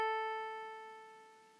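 A single musical note A, struck once and left to ring as a clear pitched tone that slowly fades over about a second and a half, heard alone.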